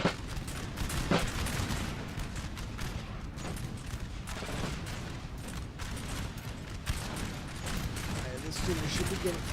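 Musket volleys from lines of troops in Napoleon: Total War crackle continuously as dense, overlapping bursts of mid-distance fire, with battle noise throughout and a voice talking over it.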